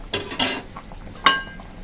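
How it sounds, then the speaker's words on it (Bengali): Metal lid set onto a pot of crab curry with potatoes on the stove: a couple of soft clatters, then one sharp, ringing metallic clink that fades quickly. "তো আমি এখন তরকারিটা একটু ঢেকে দেবো।"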